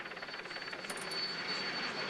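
A helicopter filming the Tour de France, a steady rotor roar with a faint rhythmic thump, continuous and even, no talk.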